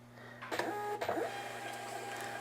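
Bakery's printer printing in black, a mechanical whir with sharp clicks and feed sounds over a constant electronic hum, close and moderately quiet.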